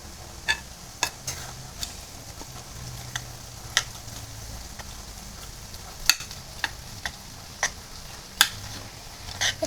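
Burger mixture is stirred and mashed in a bowl, with sharp scattered clicks and taps of a utensil against the side over a quiet background, about a dozen irregular knocks.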